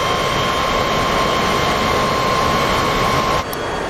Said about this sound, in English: There's Simba and his tiny little jet.